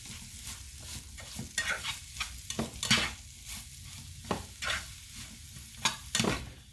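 Jackfruit fries in olive oil in a pan, a steady sizzle broken by scraping and clattering stirring strokes at an uneven pace, close up with no voices.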